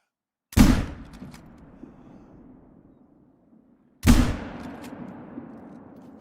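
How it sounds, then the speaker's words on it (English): Two loud, sharp rifle shots about three and a half seconds apart in the hunting game Call of the Wild, fired at a goat, each ringing out with a long rolling echo that fades into quiet. "I'm gonna shoot this just in case."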